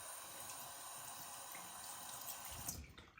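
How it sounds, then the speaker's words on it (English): Cold water running steadily from a tap into a sink, a continuous close hiss that breaks up and stops at the end, with no talking. "Now I'm going to hold that and run that under the tap"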